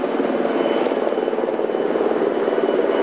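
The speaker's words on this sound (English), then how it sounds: "That's one of our choppers coming in here. That's one of the medevac choppers." A military medevac helicopter flies in, its rotor and turbine making a steady, loud, continuous roar throughout with no break.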